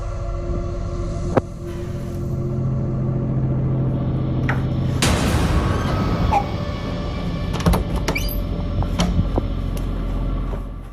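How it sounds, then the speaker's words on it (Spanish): A door in a bedroom creaks open on its own in halting movements and then bangs shut, with a sharp knock near the start and a loud slam midway over a constant low room hum. "la puerta se abre y se detiene por sí sola, antes de cerrarse repentinamente"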